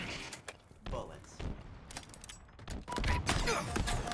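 Bursts of gunfire from a Halo video game match, sharp shots and thuds scattered through the clip with a dense rattle near the end, heard alongside game noise and a voice.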